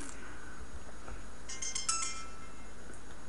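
A mobile phone ringtone sounds as a brief, faint burst of melodic electronic chirps partway through, set against steady background hiss with no talking.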